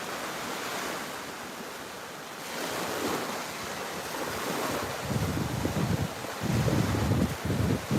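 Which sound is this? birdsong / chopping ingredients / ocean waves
ocean waves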